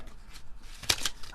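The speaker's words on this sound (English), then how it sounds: "I usually shuffle these 3 times to see" Cards shuffled by hand in a quiet room, a couple of short riffling bursts with the sharpest one near the middle, fairly soft and close.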